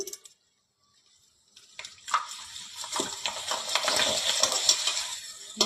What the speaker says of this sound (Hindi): चलो अब पापड़ ला तल लेते हैं। देखो एक थन पापड़ डाल दे हैं।